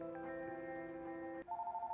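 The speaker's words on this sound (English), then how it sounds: "I'm dialing." A phone being dialed in a video game gives a steady tonal hum, then a short click and a switch to a higher pulsing tone, faint and alone with no voices.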